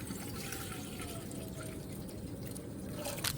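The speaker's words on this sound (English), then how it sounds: "So gonna pour in some water." Water poured into a cooking pot for fish soup, a continuous gentle splashing stream, faint and close, with a brief brighter splash near the end.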